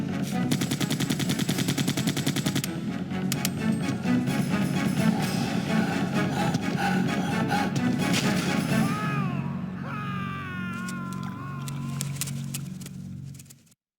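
Dense, rapid gunfire rattles continuously in the video game Resident Evil 2, loud and close, then gives way to creature screeches and rumbling before cutting off abruptly.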